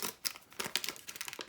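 A First Strike ration bar's wrapper being peeled open up close, with quiet, rapid crinkling and tearing rustles.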